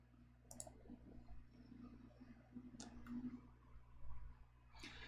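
A few sharp computer mouse clicks sound near and fairly quiet, spaced apart over a low steady background hum while someone installs Visual Studio.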